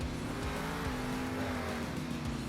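Engine of the monster truck Northern Nightmare in Monster Jam Steel Titans 2, a steady, droning roar with shifting revs at constant loudness and no talking.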